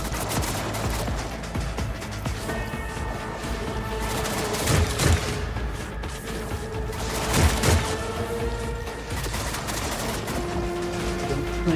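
Gunfire in the Warhammer 40K Rogue Trader game: dense, sustained volleys of shots with two louder bursts, set against continuous game music and ambience.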